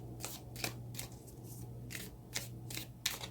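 Tarot cards are shuffled in quick, crisp riffling bursts, several short papery flicks in an uneven rhythm, close and fairly quiet.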